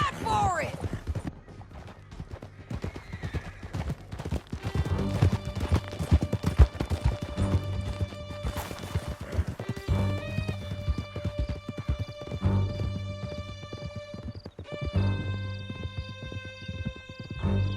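Horses gallop hard through a canyon in Red Dead Redemption 2, with steady rapid hoofbeats throughout, occasional whinnies and shouted voices over them, and music building beneath.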